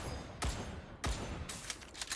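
Winter Soldier fires his weapon in Marvel Rivals while wearing the Blood Soldier skin. Two sharp, loud shots ring out a moment apart, followed by a quicker cluster of bursts, with no voices.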